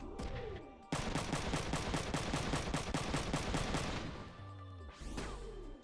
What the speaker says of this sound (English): And yet more bullets.